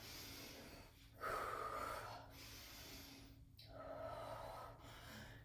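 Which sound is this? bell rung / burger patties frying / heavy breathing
heavy breathing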